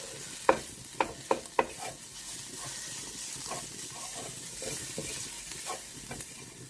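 A keto-free nasi goreng mixture with tomato puree being stirred and fried in a pan: a soft, steady sizzle with a few sharp utensil scrapes and taps near the start, close and fairly quiet.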